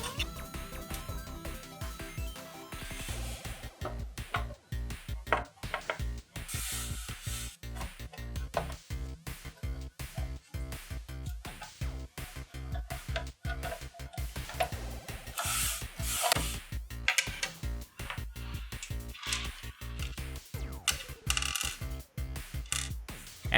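Screws being driven back into the metal RF shield of an NES console during a repair, a steady run of scraping, ratcheting turns with small metallic clicks and rubs, close and fairly loud throughout with no talking.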